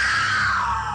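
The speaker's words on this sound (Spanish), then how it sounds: "de su interior se escuchó un desgarrador" A harrowing, drawn-out scream bursts from inside a shut room in a religious horror legend, a single loud, sustained cry that slowly falls in pitch over about a second.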